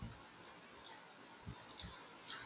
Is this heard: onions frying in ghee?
no